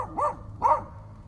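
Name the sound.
dog barking at something in the woods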